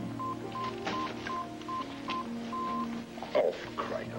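Repeated electronic telephone dialing tones beep in a steady sequence, signalling an incoming conference call, heard alone at moderate volume over a faint background hum.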